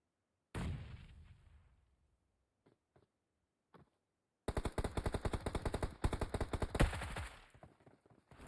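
Gunfire in a mobile battle royale game: a single loud shot with a decaying tail, a few faint scattered pops, then a rapid automatic burst of many close, sharp shots.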